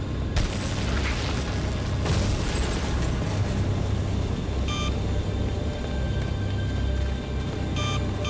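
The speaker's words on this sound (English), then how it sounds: "I guess it blew itself up" In the Resident Evil 4 video game, a loud, close explosion bursts out, followed by a sustained rumbling roar with further booming blasts and brief electronic beeps on top, and no talk.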